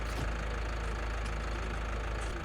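A tractor engine idles in Farming Simulator 19, a steady, close mechanical rumble with an even low throb and a few faint clicks, no voices.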